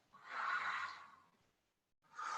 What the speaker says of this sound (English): And again, breathe out.